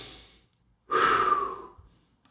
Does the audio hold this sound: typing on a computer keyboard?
no